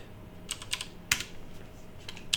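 Keystrokes on a computer keyboard as a password is entered into the Ubuntu 22.04 terminal: a few sparse, crisp clicks in small bursts, close and fairly quiet, with no talking.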